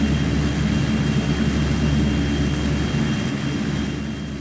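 Steady, loud drone of a Fokker 50 turboprop airliner's engines in X-Plane 11, a continuous low rumble with a faint high whine, holding level throughout and tapering slightly at the end.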